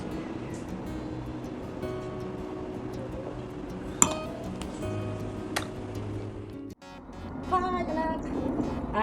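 Glasses clink together in a birthday toast at a Korean BBQ buffet, with a sharp bright chime standing out over steady restaurant chatter and background noise, followed by a brief dip and more busy dining ambience.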